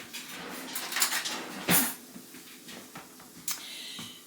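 Cutlery clinks and a clean knife is pulled from a kitchen drawer, with scattered metallic rattles and one sharp louder clack, then a few lighter knocks, all close and without speech.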